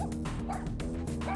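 A stressed pet dog in a multi-dog household barks repeatedly in sharp, close yips and bow-wows, mixed with whimpering whines, loud and insistent without pause.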